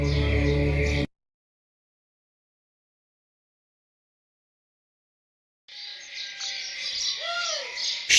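Evening birds chirp and call outdoors as they head back to their nests, short tweets and a few sweeping whistles rising over faint insect buzz after a stretch of total silence.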